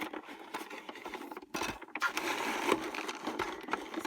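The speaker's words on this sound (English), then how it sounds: "I'm just going to run this cardstock through my Xyron" An older Xyron adhesive machine feeding a sheet of cardstock, giving a steady papery rolling and ratcheting whir with a brief pause midway, close and alone.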